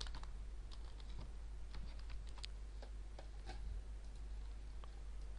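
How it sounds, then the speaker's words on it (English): Faint, sparse keystrokes tap on a computer keyboard while a command is typed at a console prompt, quiet clicks scattered over a low steady hum. "Let's type and see what happens."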